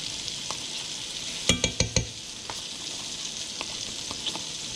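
Butter heats in a pan with smoked salmon, giving a steady soft sizzle, broken by a quick run of four sharp metallic clinks from a fork against the pan and a few lighter taps afterward.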